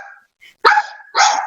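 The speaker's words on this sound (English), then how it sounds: "Is my dog barking really loud?" A pet dog barks loudly indoors in two sharp bursts separated by a short gap, with a faint whimper-like note before them and no talk over it.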